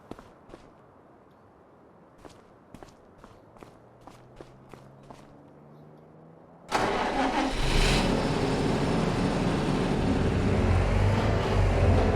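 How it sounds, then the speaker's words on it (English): A medium tractor in Farming Simulator 25 cranks and catches, its engine jumping from a quiet backdrop of soft footstep-like taps into a loud, steady mid-pitched idle that holds to the end. "we'll use a medium tractor for this job"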